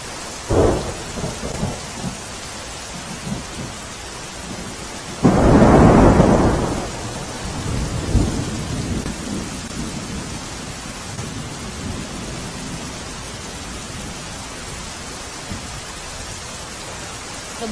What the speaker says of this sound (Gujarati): ધોધમાર વરસાદને કારણે નદી નાળાઓ અત્યારે છલકાઈ રહ્યા છે